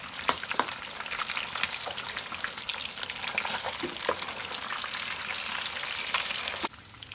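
Whole fish deep-frying in hot oil over a full flame, a dense continuous sizzle and crackle with sharp pops scattered throughout, close and loud, dropping off abruptly at the end.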